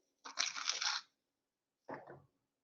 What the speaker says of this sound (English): I'm taking some water in this glass and I'm just adding 1 spoon of salt.